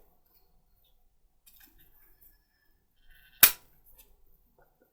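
A corner rounder punch snaps through a thick envelope corner in one sharp, close click, amid quiet paper handling and near silence.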